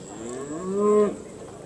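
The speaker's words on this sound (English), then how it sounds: "So this was a 3-year-old cow" A three-year-old Simmental cow moos once at a cattle show, a single drawn-out low call that rises and then cuts off, heard from a middle distance over steady background noise.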